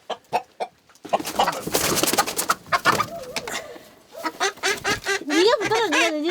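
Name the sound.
chickens clucking at a chicken coop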